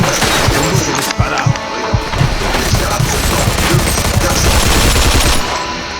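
Heavy gunfire rattles through a shootout on a balcony in Mafia II, sustained bursts and repeated shots in a loud, dense fusillade, with shouting voices mixed in.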